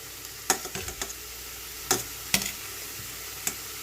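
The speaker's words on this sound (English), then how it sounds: "this is what they look in the fryer, and you want to make sure that your oil is not too hot, and mine is a little too hot" Green plantains frying in too-hot oil in a fryer give a faint steady sizzle broken by several sharp close clicks and knocks of utensils, with no talking.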